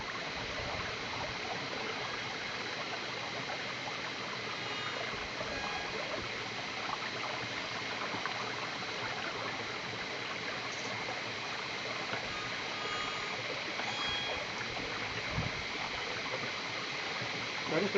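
Water flowing steadily in a rainforest stream, a constant close rushing burble with no breaks.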